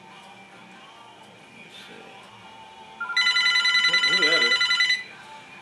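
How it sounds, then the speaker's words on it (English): A telephone rings loudly in a steady pulsing burst for about two seconds, cutting in over a voice talking through the clip. "goes that phone again."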